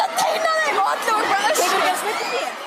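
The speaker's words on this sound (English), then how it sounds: "Absolute chaos, screaming, crowd crush." A dense crowd of fans mobs creators inside a shopping mall, with excited shrieks and high-pitched screams rising over loud, overlapping chatter close by.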